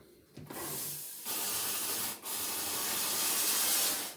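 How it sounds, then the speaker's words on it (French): Ecolux Neo steam cleaner on its lightest setting, position 1, letting out a steady soft hiss of dry steam in several bursts with short gaps, close and fairly quiet, no voices. "Vapeur très légère pour tout ce qui est vitre."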